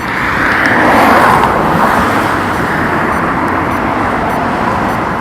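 Steady road traffic with cars passing nearby, a loud continuous rushing roar of tyres and engines that swells slightly then holds, with no talking.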